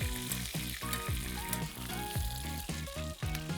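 Steak sizzling loudly in a frying pan as melted fat is spooned over it, a dense crackling hiss with repeated rhythmic scraping and splashing strokes from the basting.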